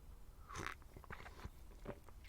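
Someone bites into a big Belgian bun with a glacé cherry and chews it close to the microphone, giving a few soft crunchy bites followed by quieter, muffled chewing.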